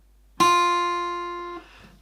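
A single guitar note on the low E string at the first fret rings out sharply, sustains clearly for about a second, then is cut off, alone with no talking.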